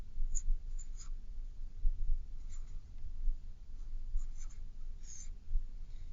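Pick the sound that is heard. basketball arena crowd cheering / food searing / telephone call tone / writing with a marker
writing with a marker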